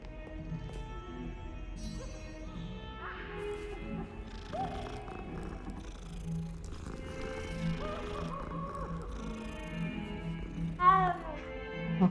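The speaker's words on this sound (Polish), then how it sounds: "Okej, kot musi być nawet w Hogwarcie." A cat in the Hogwarts Legacy video game purrs and gives a soft meow amid game ambience and music, a busy layered background with a brief sharper call near the end.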